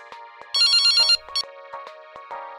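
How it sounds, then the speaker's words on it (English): A telephone rings in a horror video game with a short electronic ringtone melody, one bright burst followed by softer chiming notes, close and clear with no talking. "My phone rings."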